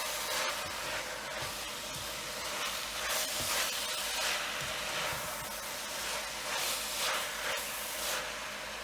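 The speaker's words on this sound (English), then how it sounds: "I'm still sauteing this. You can hear it." Potato greens sizzle steadily in a hot pan, a continuous close hiss and crackle with faint surges, no talk over it.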